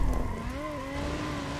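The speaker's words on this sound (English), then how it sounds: "I'm managing to drift this pretty okay." A Nissan 350Z drifting in a video game: a sustained engine drone with rising and falling pitch and tire squeal, steady and fairly loud, with no talk.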